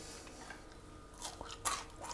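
Close crunching and chewing of crispy homemade French fries fresh from the fryer, a few irregular crisp bites and squishy chews, with no talking.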